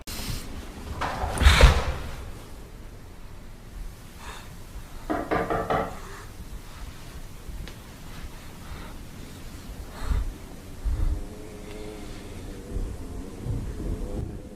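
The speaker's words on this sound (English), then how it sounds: "he hears knocking" Knocking on a door in The Backrooms video game comes as a few dull, heavy thuds spread apart over a low rumbling ambience, fairly loud and hollow.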